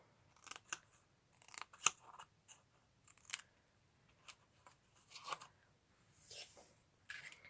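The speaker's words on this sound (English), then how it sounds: "cut on the score line, and then cut these off like this" Scissors snipping through patterned paper along a score line while crafting a small explosion box, a series of crisp, quiet cuts in an irregular rhythm, close and alone.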